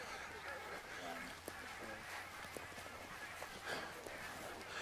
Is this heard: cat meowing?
no